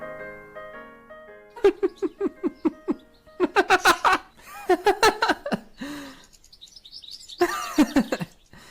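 Singing voice imitates a cuckoo, with clusters of short, bright, closely spaced call-like notes in bursts alongside a soft backing tone, loud and close, ending in a rapid flurry of high chirps.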